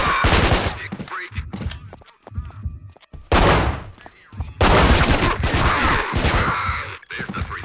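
Gunfire in the Manhunt video game, with rapid bursts and single loud shots that come close together and break off with short gaps, with a few brief voices between them.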